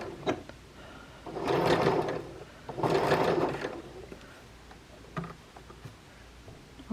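A sewing machine back-stitches along the edge of a fabric tie, running in two short, close bursts of rapid stitching separated by brief pauses and light handling clicks.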